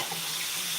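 A kitchen tap runs steadily as a knife is rinsed under it at a sink, a soft continuous hiss of flowing water with no talk.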